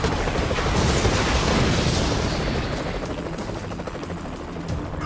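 Helicopter sound effect in an online Risk video game: loud, continuous rotor roar with a dense low rumble, steady and alone, easing slightly in level toward the end.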